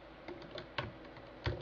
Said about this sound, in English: press Control W on our keyboard